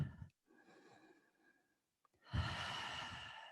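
Breathing during a mat Pilates exercise: a soft sigh-like exhale, a pause, then a longer, louder breath close to the microphone, with no talking.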